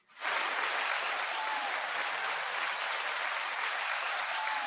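Audience applause at a business talk show greets a guest, a dense steady wash of clapping that swells in quickly and holds loud and even throughout with no voices over it.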